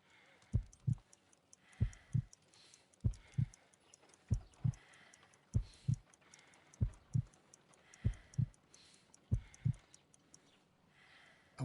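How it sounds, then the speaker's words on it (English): A slow heartbeat in the Sherlock Holmes: Crimes and Punishments video game pulses in clear paired thumps, about nine lub-dub beats at an even, unhurried pace over faint ambience. "I need to concentrate and count the heartbeats."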